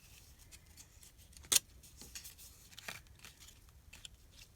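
Washi tape torn and pressed onto a junk journal page, with one sharp tearing rip standing out amid faint crinkly handling and soft tapping, close and quiet.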